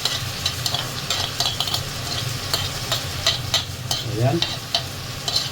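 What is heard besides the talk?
marinated goat meat frying in a pan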